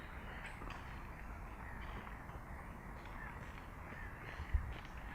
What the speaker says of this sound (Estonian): Mis te arvate nendest lindudest?